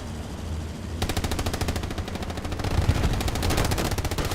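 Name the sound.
gunshots fired in the video game Hell Let Loose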